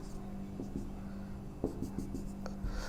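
Chalk or marker strokes on a board during a physics lesson on cell internal resistance and EMF, a series of short scratchy taps and scrapes, close and moderately loud over a steady low room hum, with no speech.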